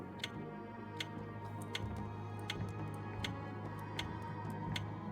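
Steady, regular ticking repeats about once a second over a dense low hum and ambient drone, like a clock in a video game level. The ticks are sharp but fairly faint within the background.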